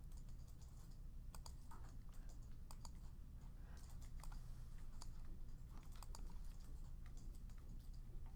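A computer mouse button is clicked repeatedly while the Alt key is held, a quick irregular run of light clicks over a constant background hiss.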